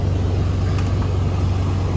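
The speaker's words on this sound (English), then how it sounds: "We'll give it one more rev here." A car engine idles with a steady low rumble and a faint rise in revs, heard up close in a salvage auction lot of hail-damaged cars.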